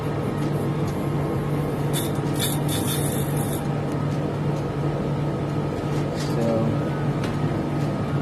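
A tumble dryer motor runs with a steady, loud, continuous hum and rumble, with a few faint clicks and rattles in the mix.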